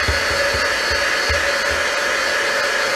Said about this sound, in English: I've brought out the heat gun